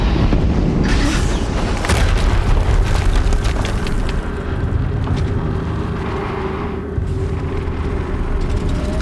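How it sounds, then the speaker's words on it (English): A heavy explosion in the video game Horizon Zero Dawn, in the Maker's End area, booms loudly and rolls into a long, dense, rumbling roar with crackling debris throughout. "Another explosion."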